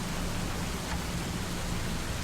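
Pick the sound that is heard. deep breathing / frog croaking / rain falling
rain falling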